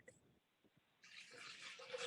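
Tap water runs and pours steadily into a cup or pot as the base for a turmeric-ginger immune-boosting drink, starting after a short pause and continuing to the end, close and fairly loud, with no talk.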